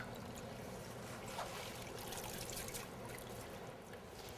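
Water swishes and trickles in a bowl as spinach floats and is washed, a soft, continuous sloshing with faint splashes, close but quiet.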